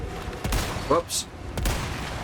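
Gunfire in the video game Resident Evil 4, a couple of sharp shots with short bursts of game noise, heard under a steady bed of background sound; a voice speaks briefly in the clip.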